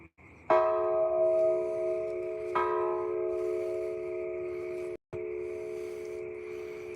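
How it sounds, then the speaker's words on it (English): A heavy metal air tank hung as a wind chime is struck twice, each strike ringing out with a long, resonant, bell-like sustain that decays slowly, followed by a brief cut and continued ringing. "It's the air tank wind chime."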